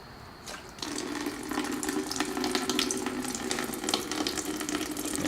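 Old, dirty coolant pouring out of a car radiator with the cap removed, a steady close gush of liquid that begins abruptly and keeps splashing continuously, with no talking.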